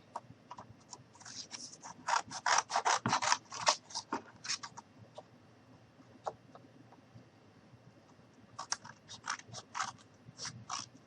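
Scissors snip through cardboard in quick bursts of crisp, close cuts, a flurry of snips followed by a pause, then another short run of cutting.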